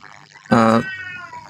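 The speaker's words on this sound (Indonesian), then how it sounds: "kucing di sini lagi berantem" Cats fighting let out one loud, strained yowl lasting under half a second, close by, with people talking quietly around it.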